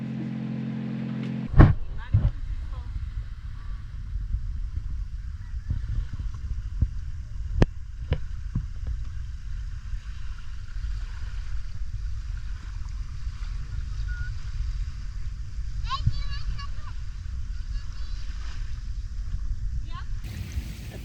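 A small dinghy motors across open water near a beach in Bora Bora, a steady engine drone with splashing and wind running throughout, and voices talking over it.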